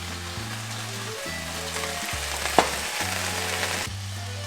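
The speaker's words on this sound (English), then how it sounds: "Time to grill up some onions in this little corner over here." Onions sizzle on an outdoor grill in a steady, close frying crackle, with a single sharp tick partway through.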